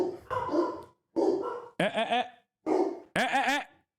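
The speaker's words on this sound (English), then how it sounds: "Stop barking." A dog barks in short bursts, several yips and barks with pauses between them, fairly close and moderately loud; some human voicing may mix in at the start.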